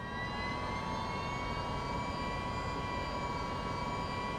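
A simulated MV-22 Osprey tiltrotor in Microsoft Flight Simulator spools up its second engine, giving a steady, loud turbine drone with a high, constant whine that holds without a break.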